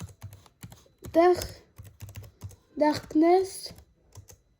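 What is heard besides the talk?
typing a password on a computer keyboard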